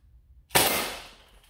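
A modded Nerf Shellstrike blaster fires a single shot, a sharp sudden pop with a bright airy blast that fades over about a second, close and loud after near silence.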